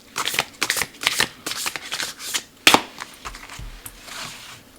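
Oracle cards being shuffled by hand: a run of quick, crisp riffling and slapping bursts in irregular rhythm, close and fairly soft, with no talking.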